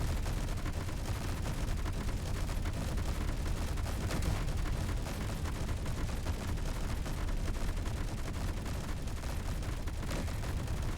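Rapid, continuous turret gunfire from a player-built ship in Space Engineers, a dense, unbroken rattle of shots and booms that fills the whole stretch at steady loudness.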